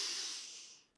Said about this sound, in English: just first start with some nice long deep breaths, breathing in through the nose, out through the mouth